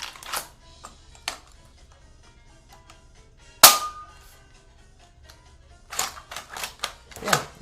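A Wingchester blaster by Shellington being dry-fired gives one sharp, loud clack, with softer clicks of handling and mechanism before and after it.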